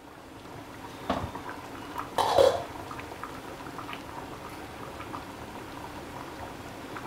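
Okra sambar bubbles in a pot on the stove with soft continuous simmering and a couple of brief louder bursts, fairly close and with no talk.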